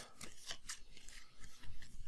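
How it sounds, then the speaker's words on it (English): Dragon cards from a board game being shuffled by hand, a brief run of soft papery riffles and rubbing slaps, faint and close, no voices. "I'm going to shuffle the dragon cards."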